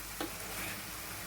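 Spices are stirred into tomato curry frying in a pan for an Andhra-style vada curry, a faint, steady sizzle broken by a couple of soft spoon scrapes.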